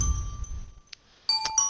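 Bright chime strikes from the Incredibox Red video game: a soft ringing tone over low background rumble, then a short pause and a cluster of clear metallic dings near the end.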